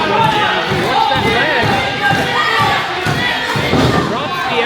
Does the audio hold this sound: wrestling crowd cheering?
yes